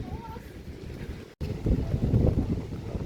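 Strong wind gusting over a mountain campsite at Bungas Puncak, Cipanas, a steady broadband roar with a brief dropout, then louder gusts buffeting the microphone.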